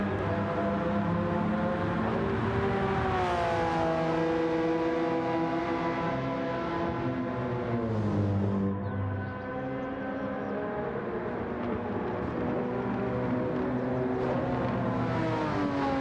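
A Porsche 996 GT3 Cup car races in Gran Turismo 7, its engine loud and continuous, revving high with pitch climbing and dropping through gear changes and corners.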